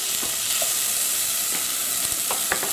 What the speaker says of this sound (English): Now I've been cooking my onions for about 5 minutes